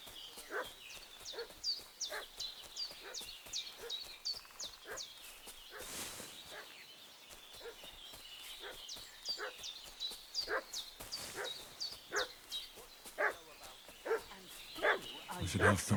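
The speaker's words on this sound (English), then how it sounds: "What's that dog making such a fuss about?" A dog in Kingdom Come: Deliverance II barks repeatedly in a steady rhythm, moderately distant, with game ambience underneath and a voice speaking briefly.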